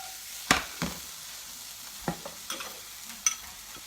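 Food is tossed in a frying pan while making omelets, a soft sizzle broken by several sharp scraping and clattering tosses spaced a second or so apart.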